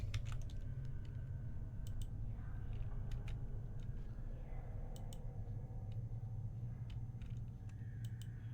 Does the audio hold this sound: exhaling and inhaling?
no